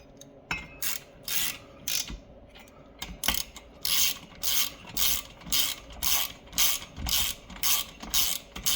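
Hand-tightening top end bolts in a crisscross pattern on a Ski-Doo Elan snowmobile engine rebuild, with a close, steady run of rapid ratchet clicks in repeated bursts, pausing briefly between each bolt.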